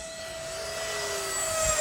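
A Freewing 90mm F-4 model jet makes a full-speed low pass, its ducted-fan whine steady and rising as it draws closer, loud and growing toward the end.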